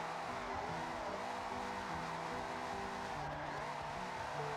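Car drifting in Forza Horizon 6, its engine droning steadily with tire squeal layered over it, continuous and loud with no breaks, after a switch from a BMW and Ferrari.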